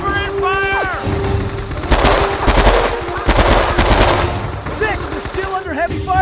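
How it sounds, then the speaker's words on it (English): In the World War II shooter game Men of Valor, dense machine-gun and rifle fire rattles continuously at close range with heavy bursts throughout. Shouting soldier voices come over the battle noise. "6, we're still under heavy fire from those bunkers."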